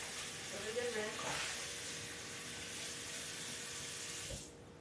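Tap water runs steadily into a pot being rinsed in a home kitchen while making tonkotsu ramen, a soft continuous splash with a brief clatter near the start before the flow cuts off.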